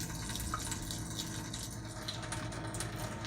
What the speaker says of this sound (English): We want to allow the water to run at full pace for 10 minutes to completely flush the cartridges